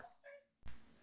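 A puppy gives a few thin, high whimpers close by, quiet and brief, followed by a sudden soft thump of movement.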